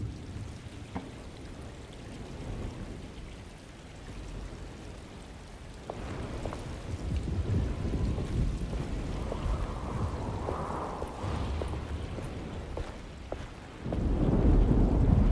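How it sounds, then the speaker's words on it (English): Storm ambience in the video game Alone in the Dark: a steady wash of rain with low rumbling thunder that swells louder toward the end, no voices over it. "Just keeping an eye out for the storm."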